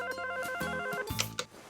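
A telephone bell rings in a cartoon mansion scene, a couple of bright bursts ringing out clearly with no talk over them.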